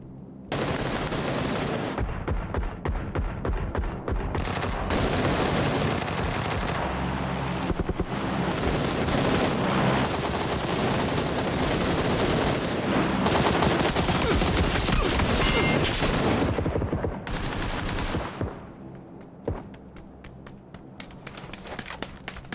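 Sustained video game gunfire, loud rapid machine-gun bursts and volleys packed together for nearly twenty seconds, thinning out near the end into scattered shots.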